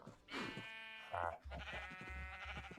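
Sheep bleat in a farming video game, a couple of wavering calls close by over a low game soundscape.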